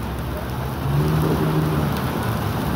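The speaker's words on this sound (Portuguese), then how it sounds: "Chuvona forte, irmão," Heavy rain pours down in a steady, dense hiss with a low rumbling undertone, continuous and fairly loud throughout with no break and no talking.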